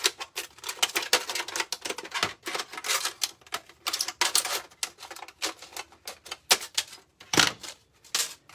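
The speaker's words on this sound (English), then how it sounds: "I'm going to cut off one side. So just one side, I'm going to cut basically the rim" Scissors snip the rim off a thin aluminum flower basket, giving a quick series of crisp, sharp metallic clicks in irregular bursts, close and fairly loud, with no talking.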